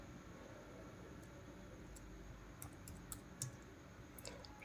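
Typing 'Red Hawk' on a computer keyboard: a short run of soft, close key clicks over a steady faint hiss, with no talking.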